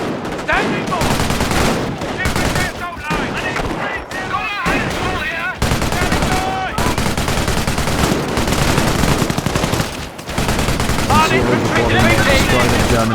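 Sustained machine gun fire from an MG emplacement in Company of Heroes chatters across a loud battlefield, mixed with other gunshots and soldiers calling out, with only brief pauses in the shooting.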